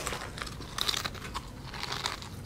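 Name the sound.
someone crunching food at the camera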